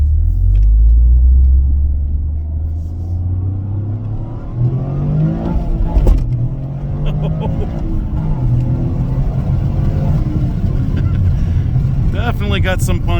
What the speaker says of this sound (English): Definitely got some punch off the line there.